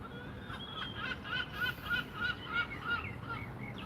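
Gulls calling in Bath, UK, a run of repeated honking cries in an uneven rhythm over steady outdoor background noise, moderately near with no talking.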